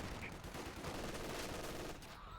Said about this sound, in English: There goes a grenade on the machine gun.